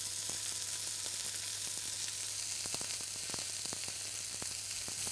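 A steak sizzles and fries in a hot pan, giving a steady, dense crackle with scattered sharp pops throughout and no voices.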